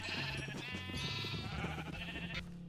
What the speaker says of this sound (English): Oh my gosh, we have so many sheep now.